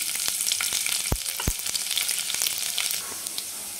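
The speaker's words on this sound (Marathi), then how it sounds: "थोडासा लसणाचा कलर चेंज होईपर्यंत आपल्याला परतून द्यायचं" Chopped garlic and cumin seeds sizzle in hot oil in a pan, a bright continuous hiss with a few sharp pops and stirring knocks, close and alone.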